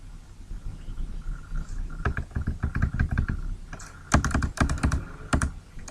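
Rapid clicking keystrokes on a computer keyboard, loud and close, in irregular bursts that end with a few sharp heavier presses, with no talking.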